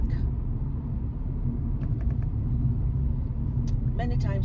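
A car driving along a road toward work, with a steady low engine and tyre rumble from inside the cabin throughout and a few faint higher clicks near the end.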